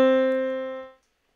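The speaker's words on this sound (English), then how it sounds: "C right in the middle of the keyboard is going to be your middle C." A single middle C note is played on a 49-key keyboard: one clear, bright tone that sustains briefly, fades, and stops after about a second, leaving silence.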